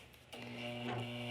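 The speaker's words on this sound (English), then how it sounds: "we will go ahead and sew the edge together" A sewing machine runs steadily as it stitches a fabric seam on a skirt, giving a continuous mechanical hum and whir that starts abruptly and holds an even drone.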